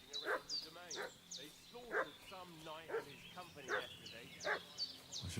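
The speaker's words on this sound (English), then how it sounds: "What's that dog making such a fuss about?" A dog barks and yips repeatedly in the medieval video game Kingdom Come II, a rhythmic series of sharp barks at moderate distance with whimpering tones between them.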